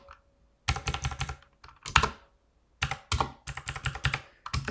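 Bursts of fast keyboard typing while writing binary-search code, clattering keys in several rapid runs separated by short silent pauses, close and crisp.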